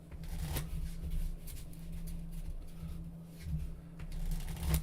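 A deck of playing cards being shuffled up close in a steady, continuous riffle of soft flutters and light snaps, with a low hum underneath and no talking.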